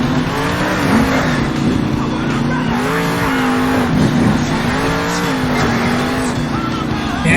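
EarthShaker monster truck at a Salt Lake City stadium show, its engine revving continuously and loud with wavering pitch, tires churning, crowd noise beneath.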